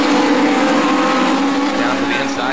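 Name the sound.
race cars side-by-side on oval track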